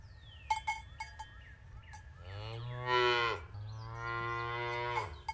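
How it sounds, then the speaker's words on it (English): A cow moos in two long, loud, drawn-out calls, the second held longer than the first, with a few brief clanks before them and no talk. "Stop your goddamn hollering and moaning, stupid cow"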